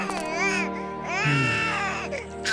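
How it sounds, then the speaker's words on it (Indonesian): A baby cries in rising and falling wails, loud and close, with a brief whimpering break before crying resumes, in a folk-tale setting where it is heard from bushes nearby. "Awang tiba-tiba mendengar suara bayi yang menangis"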